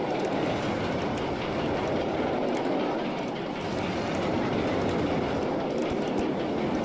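Roller coaster train running along its track in Rollercoaster Tycoon 2: a steady loud rumbling roll with faint rhythmic clicking, continuous and close, no talk.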